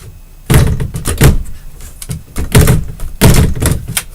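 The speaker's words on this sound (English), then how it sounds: "Damn, door's stuck." A stuck door is yanked and rattled in repeated bursts of loud thunks and bangs, about three clusters of knocking and scraping with brief pauses between, close by and with no voices.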